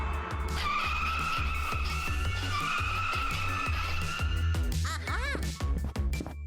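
A cartoon dinosaur toy car drives with a steady, racing-style engine drone, then breaks into a series of sharp, squealing tire skids near the end.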